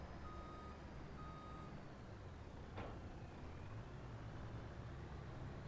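A truck backing up to hook a trailer in Farming Simulator 25, its low steady engine rumble running throughout with two faint reversing beeps near the start and a brief click midway.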